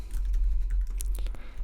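A web address being typed on a computer keyboard, with quick light key clicks in a short uneven burst over a low steady hum.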